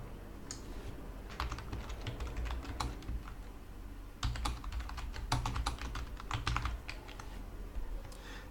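Someone types C# code on a computer keyboard in quick, uneven clusters of clicks. The keystrokes sit close to the microphone, over a low room hum.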